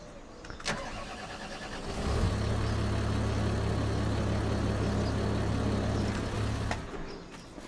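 Tractor engine in Farming Simulator 25 starts up after a couple of clicks, then runs at a steady low rumble for several seconds before cutting off.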